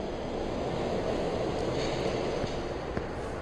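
A steady train rumble fills a station in Shin Megami Tensei Nocturne, a continuous rolling hum of carriages with faint rail noise and a couple of small clicks near the end, no voices.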